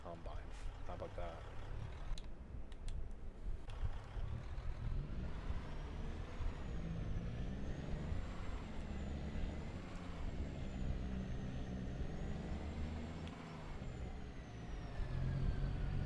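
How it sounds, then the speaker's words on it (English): Truck in Farming Simulator 25 driving over to a combine during harvest, a steady low engine drone that runs throughout with faint hiss and brief clanks early on. "We drive the truck over to the combine"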